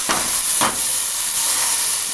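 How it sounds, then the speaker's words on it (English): Beef pot roast searing in hot oil in a pan, a steady broad sizzling hiss with two brief louder bursts of spatter near the start, continuous and close with no talking. "our meat looks like it's going to be seared. Put the oil around, flip it over."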